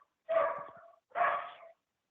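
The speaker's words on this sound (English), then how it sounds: "And that's my dogs in the background" Two loud, close barks from pet dogs in a home, each lasting most of a second, separated by a short pause, with no talk over them.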